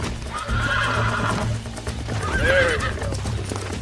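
Horses whinny and hooves clip-clop in a Western video game featuring Mr. Marston and a stallion, with a loud neigh rising near the middle over steady hoofbeats and a brief spoken phrase.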